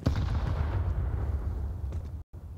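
A grenade blast in a Counter-Strike esports match on the Vertigo map, a loud booming burst at the start that rumbles and decays over a couple of seconds before cutting out briefly.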